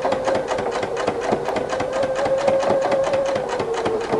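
Husqvarna Viking sewing machine fitted with a ruffler attachment sewing two fabric pieces, a loud, continuous close-up whir with rapid mechanical clatter and a steady pulsing rhythm throughout.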